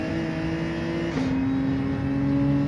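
A Lamborghini Huracan engine in the racing game Gran Turismo 7 holds a steady droning note that drops abruptly with a gear change, then climbs gently as it builds revs again.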